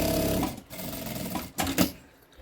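A sewing machine runs in short bursts while stitching along the edge of a fabric lining for a box-style toiletry bag, with brief pauses between runs and nearby close-up motor whir.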